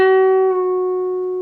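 One clean electric guitar note on the 11th fret of the G string, bent and held, ringing steadily on its own with a small shift partway through before a gradual decay.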